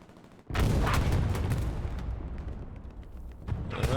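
Artillery and gunfire in the World War II shooter Hell Let Loose during a competitive match, a sudden heavy boom followed by sustained rumbling explosions and scattered rapid shots, another blast near the end.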